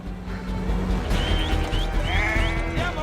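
Several sheep bleating in a film scene, with repeated wavering cries overlapping against a dense, rumbling background of ambient noise and movement, fairly close and loud.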